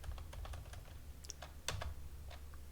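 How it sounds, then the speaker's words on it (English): Computer keyboard keys clicked in a quick irregular run, one tap standing out louder, close and quiet against a low background hum, with no talking. "So I'm going to click enter again."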